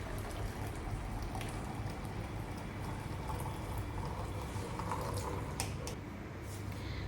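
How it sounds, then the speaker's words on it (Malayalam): Milk is strained at home, giving a steady broadband trickle and patter of pouring liquid at close range, continuous and fairly even throughout with no talking. "അപ്പോൾ പെട്ടെന്ന് ഞാൻ പാലൊക്കെ ഒന്ന് അരിച്ചെടുക്കുന്നുണ്ട്."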